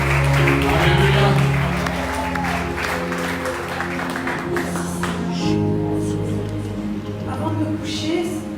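A church congregation claps and acclaims the Lord during a French-language worship service, sustained applause mixed with raised voices and music filling the room.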